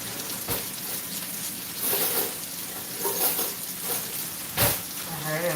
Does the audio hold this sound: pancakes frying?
yes